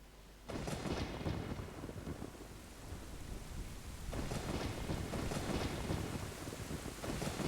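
A thunderstorm in the video game Ocarina of Time sets in abruptly with a dense, loud rumble of rain and wind, swelling again in broad thunderous surges that keep the wash continuous and close with no talk.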